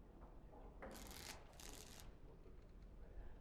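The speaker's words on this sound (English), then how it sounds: "Before we start, the cards must be shuffled." Playing cards shuffled in Dragon Age Origins, heard as two short bright riffling bursts close by over a steady low background hum.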